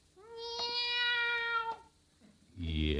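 A person imitates a cat meowing from behind a hedge, a long drawn-out tonal mew followed by a brief pause and a second, harsher vocal burst at the end.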